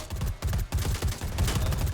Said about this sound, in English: That's his shoulder cannon